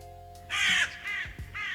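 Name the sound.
Crow Mauler cawing in the video game Fear and Hunger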